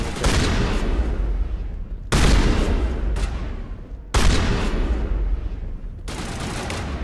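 Loud, dense bursts of video game gunfire, heavy blasts and rapid shots in three or four clustered volleys over about seven seconds, with a shotgun among them.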